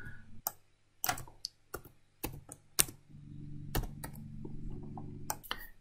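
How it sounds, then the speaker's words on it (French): Fingers tap an amount into a computer keyboard, a close, quiet burst of separate clicks in an uneven rhythm, with a faint low hum beneath. "je vais donc taper le montant"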